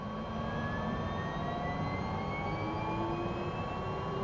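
An MV-22 Osprey turbine spools up during engine start in Microsoft Flight Simulator, a steady close jet whine with slowly rising tones over a broad rumble.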